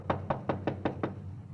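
Six sharp, evenly spaced knocks rap on a front door in a radio drama, close and firm, coming about five per second over a low steady hum, then stopping.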